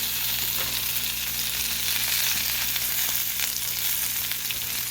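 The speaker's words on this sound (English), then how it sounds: "Then next, we'll add our baby spinach." Baby spinach wilts in a hot pan with a steady, close sizzle and faint crackle that holds evenly for the whole stretch, with no voices over it.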